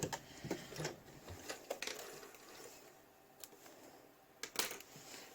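A sewing machine stitches fabric for a sewn ball, giving quiet, uneven bursts of mechanical whirring and clicking with short pauses between runs.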